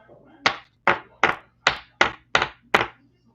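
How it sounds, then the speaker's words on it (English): Fireworks going off outside at night, a run of seven sharp, evenly spaced booms with quick decays, muffled and somewhat distant, with no talking over them. "Some lovely person is blowing off fireworks outside for some reason."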